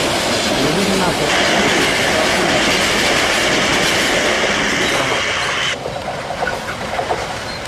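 The Kalni Express passes a busy railway level crossing up close and loud, a continuous roar of rumbling wagons and rhythmic wheel clatter that eases off slightly toward the end.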